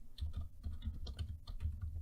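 Rapid, uneven keystrokes on a computer keyboard, close and fairly loud, clattering in quick bursts for about two seconds with no talking.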